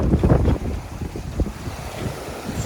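A sailboat under a genoa poled out to starboard runs toward the Aitutaki atoll entrance, with steady wind rush over the microphone and water washing and slapping against the hull, loud and continuous.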